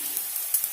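Wheat rava cutlets fry slowly in oil on low heat, giving a steady close sizzle with soft crackling pops and a bright hiss, no talking.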